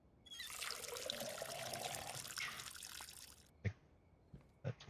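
A watering can filling with water in the video game Schedule 1: a steady splashing stream runs for about three seconds, then stops, followed by a few soft clunks and drips.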